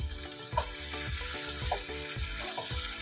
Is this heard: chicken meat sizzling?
yes